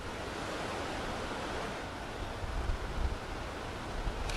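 Water rushing through the opened gates of Kota Barrage during heavy rain in Rajasthan, a steady broadband roar with no break, the low rumble swelling slightly toward the end, no speech.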